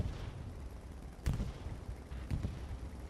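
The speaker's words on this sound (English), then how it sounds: "Bombing run comes in." Two heavy explosions from a bombing run in the World War II shooter Hell Let Loose during a competitive match, each a sudden broadband blast with a rumbling tail, spaced about a second apart over a dense background of battlefield noise.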